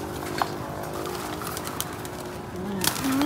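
Pigeons at a home loft at five in the afternoon, with steady outdoor ambience, soft cooing and scattered wing sounds around faint human sounds, ending in a louder flurry as birds take off.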